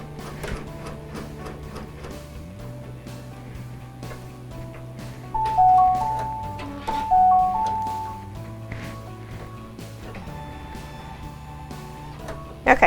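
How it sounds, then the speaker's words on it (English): An embroidery machine stitches a monogram onto the bottom of a sweatshirt, a steady mechanical hum with shifting motor tones and rhythmic needle ticking, close by, with a couple of louder whirring stretches and a clack at the end. "now when it's embroidering"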